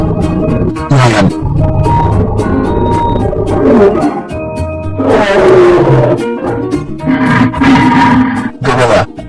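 A lion roars loudly and up close in repeated heavy bursts, deep throaty rumbles broken by short pauses across the whole stretch.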